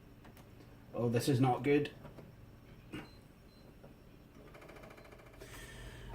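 A failing DVD optical drive in a Packard Bell iXtreme Gold 1807 makes an odd whirring, ticking mechanical noise while the machine boots. A brief spoken remark rises over it, then the faint, steady rattling carries on.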